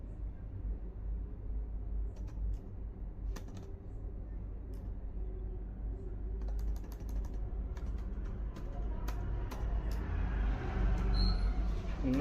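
Code is typed on a computer keyboard in steady bursts of close, crisp key clicks over a low background hum, with faint speech now and then.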